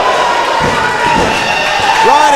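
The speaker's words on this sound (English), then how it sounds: "this crowd is fired up" A loud wrestling crowd roars continuously at an NXT match, with a few dull thuds from the ring and a commentator speaking over the cheering.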